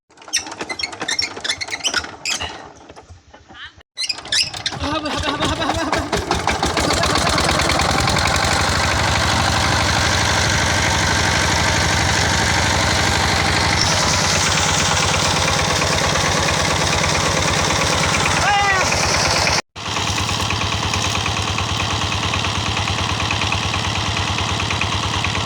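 An engine starts with difficulty in cold winter weather, cranking unevenly before catching, then settles into a loud, steady, rattling idle that drops out briefly and picks up again.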